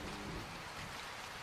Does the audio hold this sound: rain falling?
yes